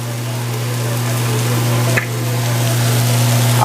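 Cremini mushrooms, shallots and garlic sizzle in a pan with butter and extra virgin olive oil, a steady close frying hiss over a low hum, with one brief stir or knock.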